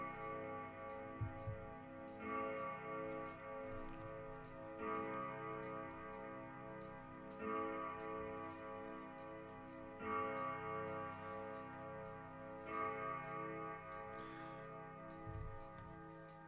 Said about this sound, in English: those clocks are 18 minutes fast. But yet, almost in time with each other.